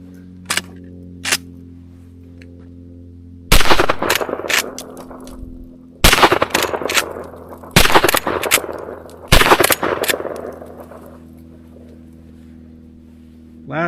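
10mm woods loads fire during function testing, two faint early shots, then loud, close reports in rapid strings and clusters separated by short pauses, echoing outdoors with no talking.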